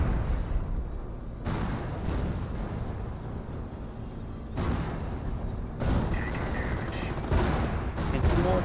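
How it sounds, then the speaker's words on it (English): Calliope rocket barrage in the World War II strategy game Company of Heroes, loud rolling volleys of impacts and explosions that surge in waves, mixed with battle noise and a commentator's voice over it. "Here comes the Calliope rocket barrage, softening up everything."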